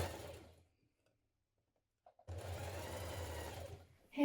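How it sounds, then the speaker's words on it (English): A domestic sewing machine hems the bottom of a pair of trousers, stitching in a steady, continuous run of under two seconds after a pause, with small clicks before the motor starts. "Now you're going to hem the bottom of your trousers."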